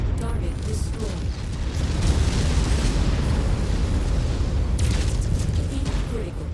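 Destroyed target exploding in MechWarrior 5 with a heavy rumbling blast that swells and lingers, followed by mechanical clanks and a second burst near the end.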